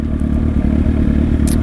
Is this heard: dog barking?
no